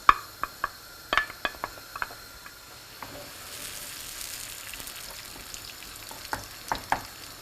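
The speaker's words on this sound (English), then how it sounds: "Just add some oil in a hot pan and I'll simply add the tomatoes and the onion that I grated." Grated tomatoes and onion hit hot oil in a pan with a steady sizzle, punctuated by sharp clicks and taps of a utensil stirring, the frying swelling louder midway before the scraping returns.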